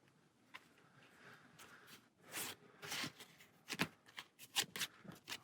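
Playing cards handled and discarded during an Aeon's End card game, soft close rustles and slides building into quick flicks and snaps of cards on a table, no voices.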